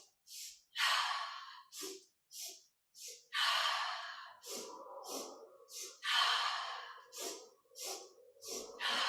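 Rapid breathing during the Breath of Joy yoga exercise: a run of sharp, audible inhales followed by longer, forceful exhales, repeated in a steady rhythm, close and fairly loud, with no talking.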